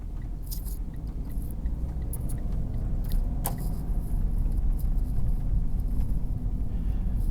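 A car driving through the town of Moab, Utah and making a right turn, a steady low road rumble and engine hum from inside the vehicle with a few faint clicks and ticks.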